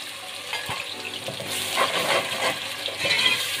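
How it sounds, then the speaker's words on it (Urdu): Water poured into a pan of golden-brown fried onion and ginger-garlic paste for a fish curry, giving a steady close sizzle and bubbling hiss that swells louder midway, with faint stirring clinks. "اب اس میں ہم تھوڑا سا پانی ڈالیں گے"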